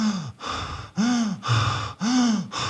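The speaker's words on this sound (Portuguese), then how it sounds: "Hiperventilação é quando eu fico..." Rapid panting breaths, a person hyperventilating at the foot of the Atacama Desert's altitude topic, with four or five sharp, loud gasping inhalations and exhalations in a quick uneven rhythm, close to the mic with no talk.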